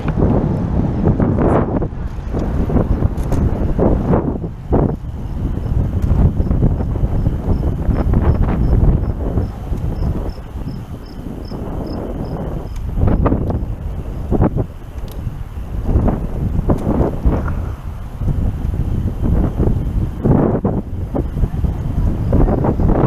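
Heavy wind buffets the microphone throughout an outdoor recumbent trike ride on a hot sunny day, a loud, gusty rumble rising and falling for the whole stretch with no clear talk above it.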